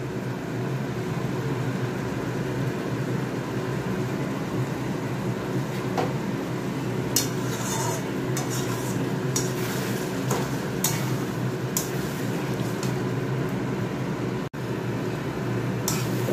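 Mutton spices with ginger and garlic are stir-fried in a pan, giving a steady, dense sizzle throughout with occasional scraping clinks of a utensil against the pan, close up and with no talking.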